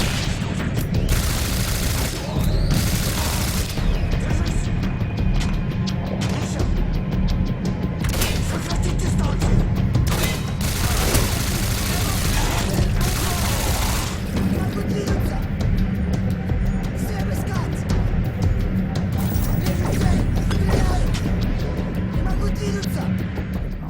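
Autocannon bursts and rocket explosions in the shooter game Singularity: dense, rapid gunfire crackles nonstop, broken by heavy booming blasts at irregular moments throughout, loud and close.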